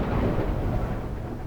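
Deep, continuous rumble of thunder from a lightning storm in Space Engineers, a dense low roar filling the whole moment with no talk over it.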